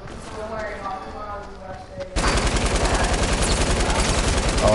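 Rapid automatic gunfire from the Squad video game bursts in loud and close after a stretch of voices and quieter game sound, then hammers on in a dense, steady stream.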